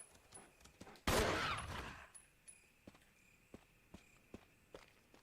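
A single loud, roaring burst of gunfire in a Resident Evil video game, lasting under a second, followed by quieter rhythmic in-game footsteps and small clicks.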